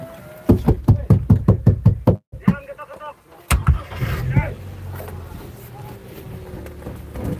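Rapid series of about ten hard knocks on a car body, close and loud, followed after a pause by further thuds and a voice shouting.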